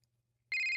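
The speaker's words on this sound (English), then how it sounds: "My phone was ringing." A phone ringtone in the video game Asagao Academy starts abruptly after a near-silent moment, a loud electronic tone that holds steadily to the end.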